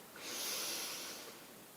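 A single slow, deep inhale drawn in through the nose, soft and close, swelling then easing off over a second or so.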